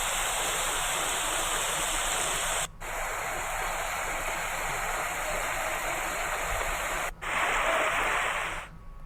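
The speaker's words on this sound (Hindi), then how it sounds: "वहीं रामपुर की प्राचीन बावड़ी में पानी की आवक लगातार जारी है" Steady broadband rush of water pouring into an ancient stepwell in Rampur, loud and continuous, with two brief cut-outs in the flow.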